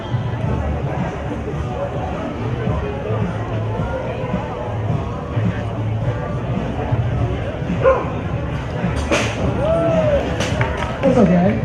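A dog named Temba at a neighborhood block party dog contest gives a few yips and whimpers amid crowd chatter and speech, with brief sharp bark-like bursts near the end.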